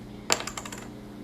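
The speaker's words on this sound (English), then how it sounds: "the dice are rolled" Eight dice tossed onto a table during a tabletop game featuring Cybermen make one sharp, close clatter followed by a quick series of rattling bounces that settle within a second.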